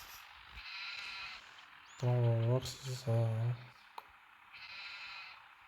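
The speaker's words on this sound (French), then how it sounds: "Voilà les moutons." Sheep bleat in Farming Simulator 23 on mobile: two loud, drawn-out bleats close together in the middle, with someone talking softly and faint game ambience around them.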